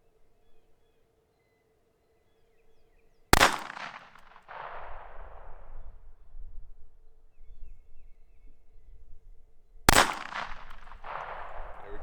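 Two sharp, loud pistol shots from a Ruger LCP II Lite Rack .22 LR fired at a target, spaced several seconds apart, each followed by a short ringing decay over quiet background hum.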